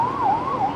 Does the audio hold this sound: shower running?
no